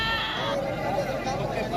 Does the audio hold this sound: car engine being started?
no